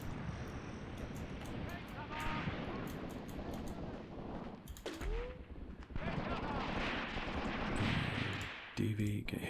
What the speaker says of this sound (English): so we'll let the artillery come in here, I think